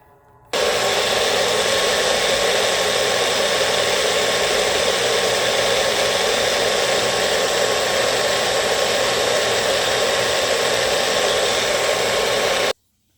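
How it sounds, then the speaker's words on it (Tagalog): A blender whirs at full speed through a smoothie made with almond cashew milk, switching on abruptly, running loud and steady for about twelve seconds, then cutting off, no voices. "I-blend ko na."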